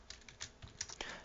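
Quiet, quick keystrokes on a computer keyboard, a rapid irregular patter of soft clicks with no voices.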